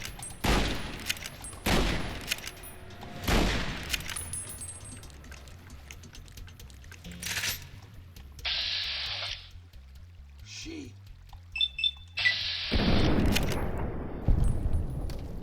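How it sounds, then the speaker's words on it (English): Automatic weapon fire in the video game Fallout: New Vegas, heard as several loud, sharp bursts of rapid shots in the opening seconds and again near the end, with quieter game effects and low rumble in between. "Got an automatic weapon."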